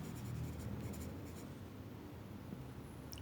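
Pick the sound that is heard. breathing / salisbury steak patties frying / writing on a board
writing on a board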